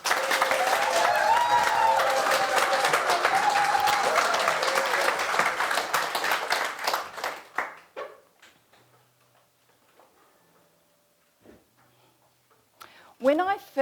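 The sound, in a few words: audience applause welcoming a contest speaker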